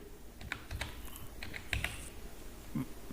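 Scattered keystrokes on a computer keyboard enter an Aadhaar number: quiet, close, irregular clicks with short pauses between them.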